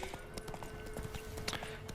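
Horse hooves clip-clop in a quick, steady gait in the video game Witcher 3, over a faint ambient bed. The hoofbeats are moderately close but quiet.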